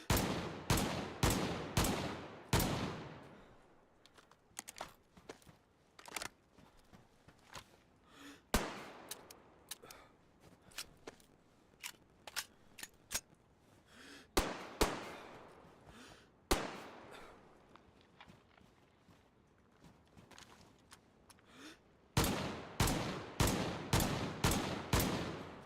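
Rifle shots in the video game DayZ, loud sharp cracks fired in quick bursts of four or five at the start and end, with slower single shots spaced out across the middle.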